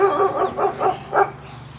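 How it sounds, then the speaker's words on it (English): A dog barks from behind a fence and gate along a residential street: four quick, fairly loud barks in a short burst, then quiet. "lucky that dog's behind the fence, a gate"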